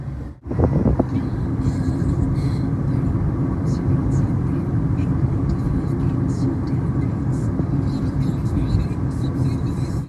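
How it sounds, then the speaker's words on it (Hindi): A car pulls out of an apartment building's parking area, its engine a steady close rumble running throughout, with a brief knock near the start. "गाड़ी बाहर निकाल ली अपने फ्लैट से"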